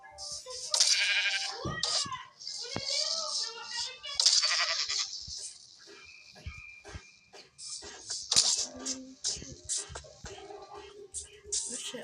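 Sheep in Minecraft bleat repeatedly in short wavering calls during a survival game, mixed with other game sounds and someone talking in French.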